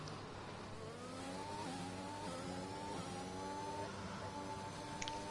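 Formula 1 race cars from a racing video game, rolling behind the safety car at Belgium, give a steady mid-pitched engine drone with gently rising and falling revs, held continuously and fairly close without talk.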